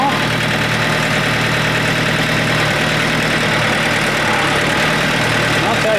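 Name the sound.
tractor engine idling, with forklift attachment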